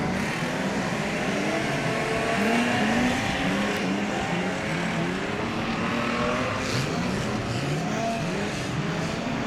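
Streetstock race cars roar across the start-finish line on a slippery New Zealand track in Wellington, several engines overlapping with rising and falling revs in a loud, continuous drone.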